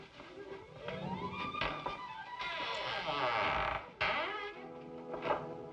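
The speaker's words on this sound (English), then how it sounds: "Creaking house, check." An old house creaks with long, drawn-out groaning sweeps that rise and fall, loud and close, with a sharp break partway through and voices talking underneath.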